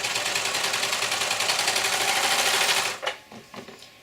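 A sewing machine runs steadily for about three seconds, stitching sleep shorts, then stops and leaves a few soft clicks behind.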